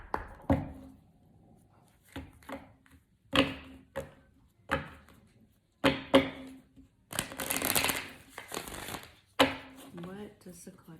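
A Moonology oracle card deck being shuffled by hand in a quiet room, a series of crisp riffling and slapping bursts separated by short pauses, fairly soft.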